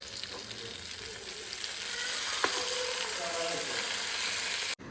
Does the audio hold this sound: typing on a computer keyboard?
no